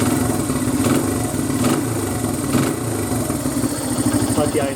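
Honda XR100R motorcycle engine idling steadily after a timing chain adjustment, a continuous close mid-pitched putter with slight fluctuations throughout.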